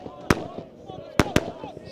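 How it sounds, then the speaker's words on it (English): Fireworks set off behind a stand at a football ground pop in loud, sharp bangs, one alone then two in quick succession, over faint crowd murmur and talk. "And fireworks going off"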